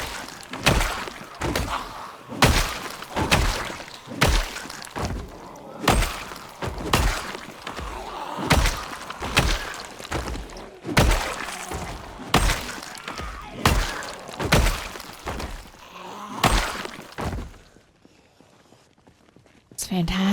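Rapid axe strikes from a first-person video game, a dense steady series of about twenty sharp, loud chops and impacts in a quick rhythm, trailing off into quiet at the end.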